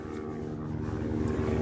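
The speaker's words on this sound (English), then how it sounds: "We've got a helicopter here now." A helicopter passes overhead with a steady, continuous rotor and engine drone, loud and close throughout with a slight build toward the end, no voices present.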